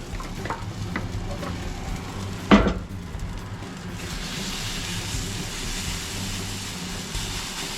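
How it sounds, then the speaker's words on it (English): Raw potato fritter batter is poured and flattened on a hot griddle, giving a soft, steady sizzle after a brief clatter of a pan or utensil, quiet and close with no talk. "I'm just gonna pour them out onto the griddle and flatten those out"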